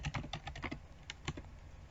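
A name being typed on a computer keyboard: a quick run of light, close key clicks with a short pause, then a few more taps, faint and alone.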